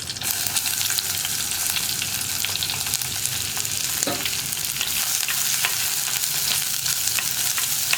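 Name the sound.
onion frying with dried chillies and curry leaves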